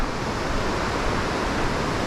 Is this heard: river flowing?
yes